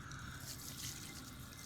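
Water running from an outdoor tap, a soft, steady faint trickle and splash with no voices.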